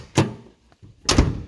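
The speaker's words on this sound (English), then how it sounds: "The doors, open and shut, awesome." Car doors on a parts vehicle being opened and shut, two solid thunks about a second apart, each with a short rattle, close by with a quiet gap between them.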